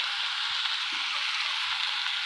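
Chicken skin and meat sizzle in hot oil with browned onions, a steady, even frying hiss with no voices.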